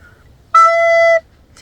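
A single clear recorder note E held for under a second, bright and steady, with quiet surroundings before and after.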